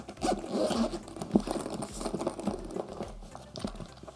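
The zipper on a Beyblade X gear case is drawn open in short scratchy pulls. The pulls are close and fairly quiet, with light handling noise between them and no talk.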